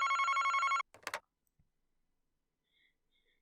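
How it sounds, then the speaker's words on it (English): A telephone rings in a rapid electronic trill at the Utsuki Detective Agency in Famicom Detective Club: The Girl Who Stands Behind, cutting off abruptly into a few soft clicks and near silence. "Then one fateful morning, the phone rang at Utsuki Detective Agency"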